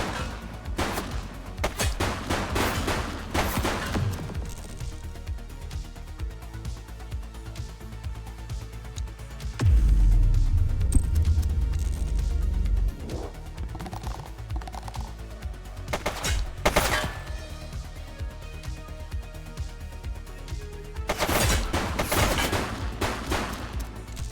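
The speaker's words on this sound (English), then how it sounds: "Shots fired!" Police game The Precinct with a dense barrage of gunfire: rapid repeated shots and bursts throughout, loud and close, with a heavier low rumbling stretch in the middle and no talk.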